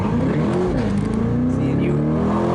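A car engine revs loud and close, rising and falling with a throaty rumble that fills the whole moment.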